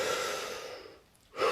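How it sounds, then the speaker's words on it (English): A person draws in a deep breath, a steady, airy inhale held close to the listener that fades, pauses, and then gives way to a fresh breathy rush at the end. "Take a deep breath."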